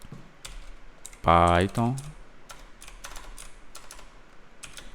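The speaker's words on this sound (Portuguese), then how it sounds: "eu entro novamente no prompt de comando, vou na pasta do SUA e aqui dentro eu vou digitar" Computer keyboard keys clicking at a command prompt, sharp taps scattered through the clip with a short burst of speech in the middle.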